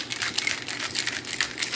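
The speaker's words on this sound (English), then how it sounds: "And I'm gonna shake it on up." A cocktail of sweet vermouth and a splash of local apple cider is shaken hard in a shaker, giving a fast, steady rattle that keeps going close up without pause.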